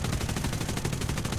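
Guns of a Martlet IV fighter fire in War Thunder air realistic battle, a sustained rapid machine-gun rattle, loud and continuous with no speech.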